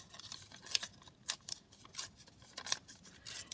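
A piece of vellum paper is torn by hand for a junk journal page, with a series of short, crisp rips and rustles in uneven bursts, close up and alone.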